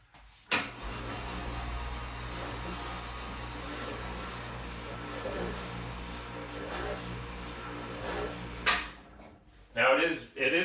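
An electric workshop hoist running, its motor and cooling fan giving a steady loud hum and whir that starts abruptly and holds before a few clunks and a brief voice near the end.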